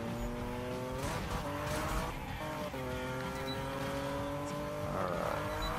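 Game car drifting in Need for Speed 2016 on PC, a steady engine drone with rising and falling revs and harmonic shifts as the car slides, loud and continuous throughout.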